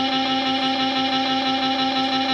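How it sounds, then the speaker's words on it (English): Looped electric guitar playing a sustained C note on the 5th fret of the G string, a steady, continuous tone repeating seamlessly with slight distortion. "very clearly the 5th fret G string C note"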